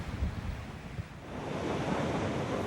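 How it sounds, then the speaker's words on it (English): Ocean waves rolling off the Tamil Nadu coast, a continuous broad wash of surf that swells louder toward the end, mixed with gusty wind noise buffeting the microphone. "Miles and miles of ocean"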